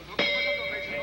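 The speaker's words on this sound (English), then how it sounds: "End of the first round, and that bell was about 7 seconds early" A boxing ring bell ending the first round of a professional bout, one sharp metallic ding that rings on with a sustained tone, over faint arena background.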